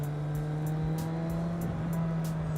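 A 2009 Suzuki GSX650F motorcycle engine running steadily close by, a constant low hum with a faint rhythmic ticking over it and no voices.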